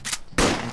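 Gunfire in Garry's Mod DarkRP inside a police station, a short burst of loud, close shots cut off by a harsh, noisy blast, with no talk.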